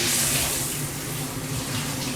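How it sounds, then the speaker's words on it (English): Tap water runs steadily from a faucet over dried-out fennel being rinsed, a constant close hiss and splash with no break and no talk. "We'll give it a little rinse"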